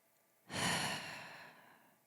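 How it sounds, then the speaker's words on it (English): Breathing in during a calming breath prayer: one slow, close, audible inhale rises suddenly after a short quiet pause, then gradually fades. "I breathe in."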